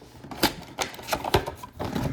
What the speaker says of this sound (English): Just close my knife up so I don't cut myself